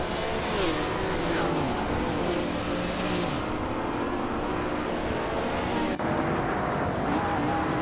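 A 1956 Maserati 450S race car engine roars loudly during a race, its pitch climbing and falling through gear changes as it revs hard, with other cars audible nearby.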